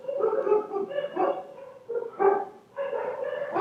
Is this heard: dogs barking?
yes